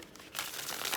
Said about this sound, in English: Let's do one more shuffle.